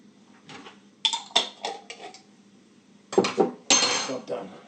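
Food tossed in a bowl with a splash of pickling vinegar gives bursts of clattering, scraping clinks against the bowl, two short clusters early and a louder, longer run toward the end, close by with no talk.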